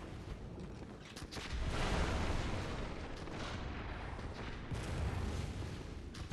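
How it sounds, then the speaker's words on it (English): Bullets ricochet and gunfire booms in the dark gothic action game Bloodborne, forming a dense, loud wash of shots and impacts that swells and stays busy throughout. "There are some bullets ricocheting off things I feel like they probably shouldn't"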